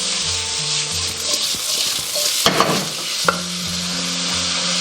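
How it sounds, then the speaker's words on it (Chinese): Shredded pork hits hot oil in a very hot wok, giving a loud, steady sizzle and crackle, while a spatula scrapes and clanks against the metal in quick, irregular strokes. "油热以后，我们下入肉丝，快速滑铲。"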